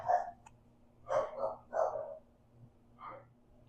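A pet dog gives a few short, separate barks in a quiet indoor room, fairly close and moderately loud, with brief gaps between each bark.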